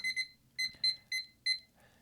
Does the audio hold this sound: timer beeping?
yes